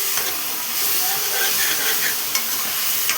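Brinjal pieces being stirred in a hot pan with green chillies, a steady sizzling hiss under scraping stir strokes, close and continuous, with a few sharper clinks of the spoon.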